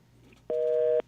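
A telephone busy signal sounds after a radio caller's line drops, a single steady electronic tone lasting about half a second, loud and alone.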